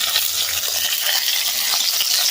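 Natural seasoning fries outdoors in a backyard for traditional Jamaican food, a loud continuous sizzle and crackle of hot oil with faint stirring, and no talking.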